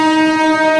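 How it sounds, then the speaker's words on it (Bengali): A freight train passes on the adjacent line of an Indian railway, heard from aboard an express train: a loud, steady, brassy horn blast held for under a second, with no other sound. "পাশের লাইন দিয়ে একটা মালগাড়ি যাচ্ছে"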